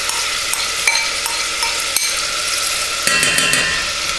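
Smoked bacon lardons sizzling in melted butter in a pan, a steady bright frying hiss with occasional clinks and scrapes of stirring.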